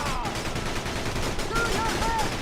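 Continuous rapid gunfire from the GameCube game Battalion Wars, a loud, busy rattle of shots throughout, with faint tonal game sounds mixed in and no distinct gaps.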